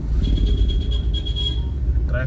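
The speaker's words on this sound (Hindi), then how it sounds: "और ट्रैफिक हो रहा है भाई" Road traffic in a Tibetan area near Manali gives a low, steady rumble of passing cars and engines, fairly close and continuous throughout.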